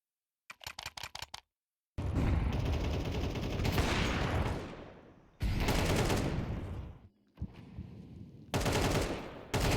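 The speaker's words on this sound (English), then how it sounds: "Jenny with such little HP, getting 2 brilliant headshots." Gunfire in a competitive Counter-Strike esports match: a short rapid burst, then heavy sustained volleys of shots broken by brief silences, loud and close.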